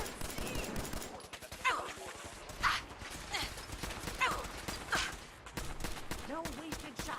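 Gunfire during an attack in Fallout 4, rapid bursts of shots crackling in clusters and overlapping, with footsteps or hoof-like clopping and occasional voices mixed in.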